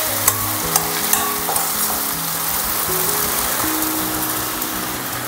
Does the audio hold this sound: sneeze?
no